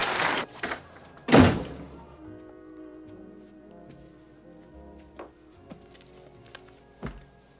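A door opening and closing: a couple of sharp knocks, then a loud thump of the door shutting, followed by quieter clicks and taps in a hushed room.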